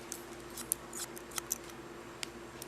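Steel scissors snip hair in a run of crisp, irregular clicks while cutting short-to-long inversion layers, the cuts close and moderately loud over a faint steady room hum, with no talking.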